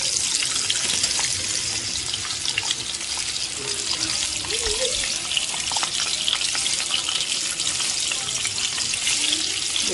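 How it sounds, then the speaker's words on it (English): Pork chops brown over medium heat in a pan, giving a steady, dense sizzle and crackle that runs unbroken throughout, close and fairly loud. "to be browning my pork chops with medium heat"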